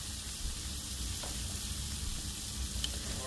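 Cabbage with garlic and Creole seasoning sizzles in a pan while being stirred, a steady soft frying hiss with faint scrapes and clicks, close and even, no voices.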